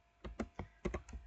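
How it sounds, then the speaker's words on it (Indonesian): Several quick keystrokes on a computer keyboard, typed while entering a network interface command, sounding as a close, uneven run of crisp taps with no speech. "kita bisa langsung ketikkan saja interface"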